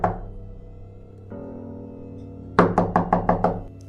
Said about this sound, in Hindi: कुछ देर बाद फिर से किसी ने दरवाजे पर दस्तक दी।